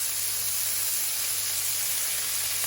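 Beef searing in olive oil in a pan, left untouched to caramelise: a loud, continuous, even hiss and sizzle close by, with no talking.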